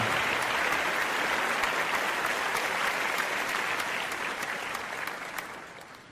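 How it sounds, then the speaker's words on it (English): Steady applause from an audience, a dense wash of clapping that holds for several seconds and then gradually thins and fades toward the end. "that was half an applause"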